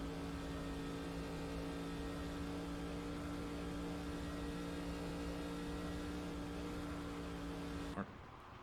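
A NASCAR race car in the NASCAR Racing 2003 video game drones at a steady, loud engine pitch for several seconds until the engine blows near the end, leaving an abrupt cut and a sudden drop in level.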